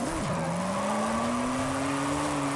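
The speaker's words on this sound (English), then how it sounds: "I want that 5th gear to hit limiter." A classic Maserati in Forza Horizon 5 holds a steady high-pitched engine whine near the rev limiter in fifth gear, loud and continuous with a slight rising pitch after a brief dip at the start.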